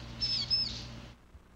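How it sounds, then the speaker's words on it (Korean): Tame vinous-throated parrotbill (crow-tit) kept indoors giving high, thin chirps, two or three brief bright notes over a soft background hiss, fairly faint and close, ending abruptly. "뱁새를, 야생의 새를 데려다가 집에서 한번 키워봤는데 사람을 굉장히 잘 따릅니다"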